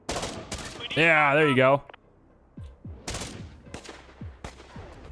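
Scattered gunshots from the Infection Free Zone strategy game pop in quick sharp cracks, several in a row near the start and more toward the end, while a voice talks in between and a drawn-out synthetic tone cuts across the middle.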